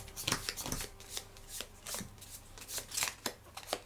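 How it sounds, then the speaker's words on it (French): A deck of Dune Imperium Insurrection board game cards being shuffled, repeated crisp riffles and taps in an uneven rhythm, close and clear, heard alone. "Donc on a notre paquet, on va le mélanger astucieusement."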